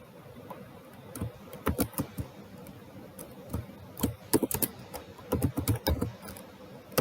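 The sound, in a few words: typing code on a computer keyboard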